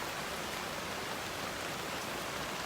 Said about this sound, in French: la pluie elle tombe de plus en plus, elle est magnifique